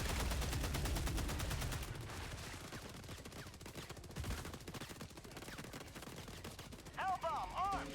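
An MG43 machine gun in the game Helldivers 2 fires rapid continuous bursts that roll into a dense battlefield din, with a brief whining tone near the end.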